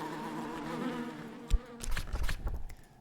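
Bees buzz around a hive during beekeeping in the video game Book of Hours, a soft, faint drone that grows into a busier, fluttering hum.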